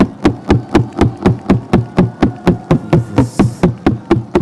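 A church congregation knocks in unison on Bibles and purses, a steady, evenly spaced series of about seventeen loud, dull thumps with no voices over them.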